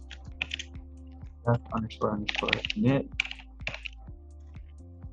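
Rapid clicking of typing on a computer keyboard, with uneven clusters of keystrokes running beneath a voice as he talks.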